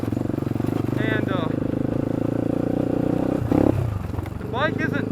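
A Honda 300EX ATV engine runs with a steady, throbbing note close by while someone talks over it, the tone shifting briefly partway through.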